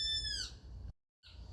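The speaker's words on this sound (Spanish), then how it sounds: "Los ruidos que escuchan de fondo son porque estoy en mi jardín, cantan los pájaros y ladran los perros." Birds in a garden, with a clear descending chirp followed by a faint tonal call after a short gap over a low background rumble, quiet and somewhat distant.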